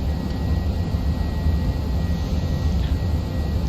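Cabin hum of an airliner on its first flight of the day out of Gatwick toward Santorini, climbing out and accelerating to 250 knots: a steady, broad engine and airflow roar with a faint tone running through it, without talk.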